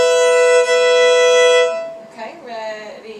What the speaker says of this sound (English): We should put our first finger down on a B on the A string